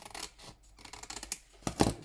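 Scissors snip paper while trimming the edge of a handmade junk journal cover, with several soft crisp cuts and one louder close snip near the end. No voices.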